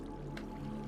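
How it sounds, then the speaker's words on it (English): A slime mob in Minecraft, down in an underground cave, makes a single short wet squish over a low, steady background drone. "Oh, I hear slime."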